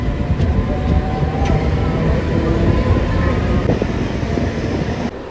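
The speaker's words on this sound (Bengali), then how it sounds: "তো আমাদের ট্রেন কিন্তু একেবারে টাইমে ছেড়ে দিল" A Howrah to Puri local passenger train running along the track, with a steady, loud rumble of wheels and carriage noise plus wind buffeting throughout, no talk, and a few faint clanks over the continuous roar.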